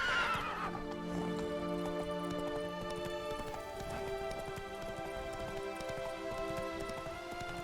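Roach, Geralt's horse in The Witcher 3: Wild Hunt, lets out a loud, close whinny, then steady trotting hoofbeats continue beneath a layer of ambient game music.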